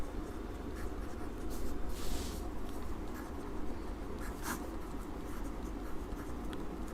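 Marker or chalk strokes scratch across a board as math values are written during a trigonometry lesson, steady scribbling with brief squeaks over a noisy, hissy room.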